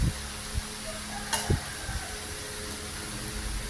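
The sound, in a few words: stirring and frying food in a pan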